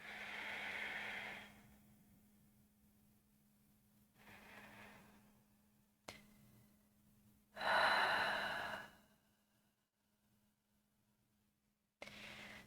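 Slow, deep breaths during a yoga pose, several soft inhales and exhales heard close up with long quiet gaps between them.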